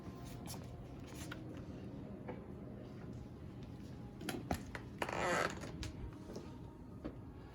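A cabinet door on an outdoor grill station swings open with a creak and a brief rattle of hardware, set against steady low background noise and a few soft clicks and knocks.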